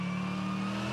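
A damaged GT race car's engine drones while accelerating at the Bathurst 12 Hour, a brief, steady, loud tone with a strong low hum and no talk.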